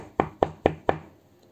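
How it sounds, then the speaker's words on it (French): Four firm, evenly spaced knocks on the door of a villa, close and loud with short gaps between them and nothing else heard. "frappa à coups redoublés sur la porte"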